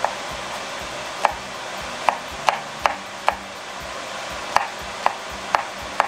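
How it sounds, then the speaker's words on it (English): A knife chops scallions on a cutting board for scallion noodles, making about ten sharp, irregular taps spread out over a quiet kitchen background. "Now we're just gonna chop these up."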